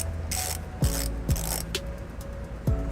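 Ratchet turning an 18mm socket to clean the threads of a weld nut during a trailer hitch installation on a 2006 Toyota RAV4, giving several close, crisp clicking strokes with short pauses between them, alone without talk.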